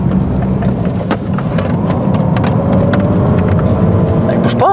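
A BMW 120d coupé drives through bends with a steady, close diesel engine drone and road rumble, while people talk over it inside the cabin.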